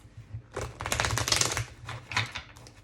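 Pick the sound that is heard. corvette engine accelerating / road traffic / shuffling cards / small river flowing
shuffling cards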